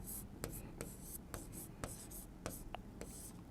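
Marker or chalk writing on a board during a maths lesson, a run of short scratchy strokes with sharp taps, close and fairly clear, with no talk over it.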